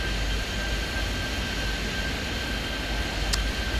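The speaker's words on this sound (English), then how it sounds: "Lots of planes passing in front of you" Airplanes passing by at an airport in Airport Madness 3D give a dense, steady roar of jet noise that holds at one level throughout, with no talk.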